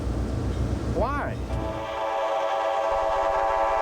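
A train passing close by, a rolling rumble with a loud, wavering whistle blast that gives way to a long sustained horn tone.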